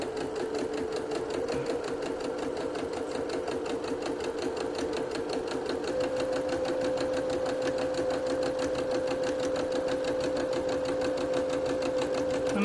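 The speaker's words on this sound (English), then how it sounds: "And we're just going to sew." Sewing machine piecing quilt pieces with a 1/4-inch piecing presser foot, a steady unbroken motor hum with rapid needle rhythm running close and loud throughout, no backstitching, with no talk.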